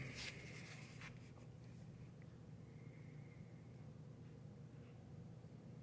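A large-nib fountain pen on paper, quiet scratchy strokes that are strongest near the start and then fade to a soft, faint scrape over low background hiss.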